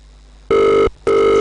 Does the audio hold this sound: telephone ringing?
yes